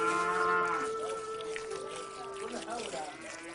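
Cattle on a rural household farm lowing in drawn-out moos, moderately near, with a voice talking over them and faint background noise.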